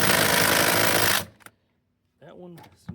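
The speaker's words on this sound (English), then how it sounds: "Hopefully, impact driver can break them free." Impact driver hammering at a front seat bolt in a Ford F150, a loud continuous rattling burst for about a second that cuts off abruptly, followed by brief clanks and a short spoken remark.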